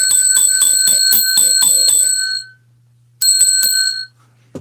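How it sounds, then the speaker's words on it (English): A hand bell rings right at the microphone, loud and bright, a rapid run of clanging strokes that cuts off, then a second short burst of ringing after a pause. "I'm going to ring the bell."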